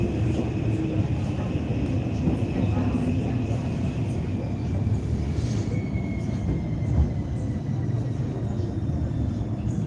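A Helsinki public transport train rolls along with a steady, close rumble and a faint high wheel squeal that rises and falls, and a few faint voices come through underneath.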